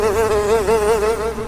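A loud, steady sound effect of flies buzzing around a body: a close, continuous whining drone that wavers gently in pitch throughout, with no voices.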